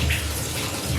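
Water running steadily from a tap while an apple is washed with dish soap, a brief close wash of splashing under a continuous flow.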